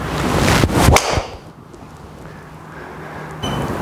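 A Cobra LTDx or Callaway Rogue ST Max golf driver strikes a ball cleanly in one loud, sharp crack near the start, followed by a fading whoosh and quieter background.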